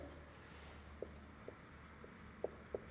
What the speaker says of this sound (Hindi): एक क्वेश्चन लिखते हैं हम यहाँ पे